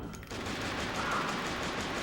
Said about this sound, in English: I can get some shots off here.